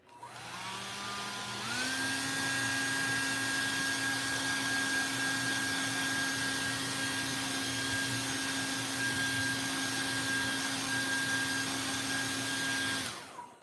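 A hair dryer drying a drawing roars close and loud, starting low, then stepping up to full power for about eleven seconds of steady whine before cutting off.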